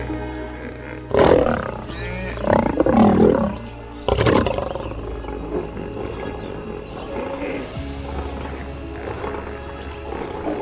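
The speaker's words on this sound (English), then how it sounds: "the most commanding sound of Africa rings out. The roar" A lion roars at night in Africa with a few deep, powerful bellowing bursts nearby that fade into a series of lower grunting calls over a quiet, hissing night background.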